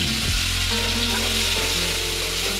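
Chopped onions hitting hot oil already seasoned with cinnamon, cardamom, cloves and cumin, giving a loud, steady sizzle that holds for the whole stretch with faint stirring.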